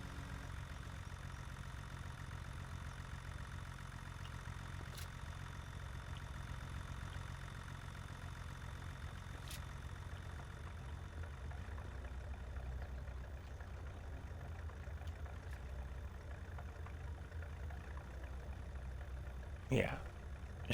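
A farm tractor idles in a steady low drone for about twenty seconds, joined by a few faint clicks and a brief squeak near the end.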